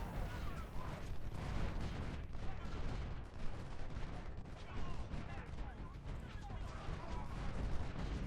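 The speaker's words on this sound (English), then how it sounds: "I got hit by artillery" Artillery fire in Ultimate General: Civil War during the Antietam battle, a dense, continuous rumble of booming cannon shots and battlefield gunfire, with a voice faintly present at times.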